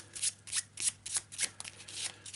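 A deck of cards from the Eldritch Horror board game being shuffled by hand, a quick run of crisp riffling bursts repeating in steady pulses, close up and alone.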